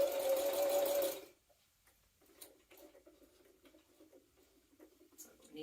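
A domestic sewing machine runs a fast, steady burst stitching the closed end of a Sirocco jumpsuit, then stops, followed by faint ticking and handling of fabric.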